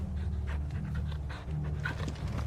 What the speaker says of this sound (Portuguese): Carinho no meu cachorro, é claro.